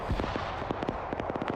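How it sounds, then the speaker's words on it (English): Dense gunfire crackles through a large PvP video game battle, many sharp shots in irregular bursts, some near and some more distant, with no one talking. "Blue 4 hears all these gunshots."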